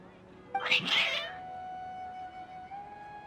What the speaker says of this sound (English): Your cats seem pretty worked up.